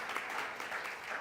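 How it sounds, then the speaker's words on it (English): Enthusiastic crowd applause at a Black women's leadership event, a steady dense wash of clapping filling the whole moment with no voices over it. "as you hear how enthusiastic the crowd is"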